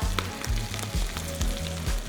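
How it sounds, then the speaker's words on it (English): Chicken toast sizzles and crackles steadily in frying oil up close, with a few soft repeated thumps and clinks underneath the frying. "You want to be able to hear that sizzle."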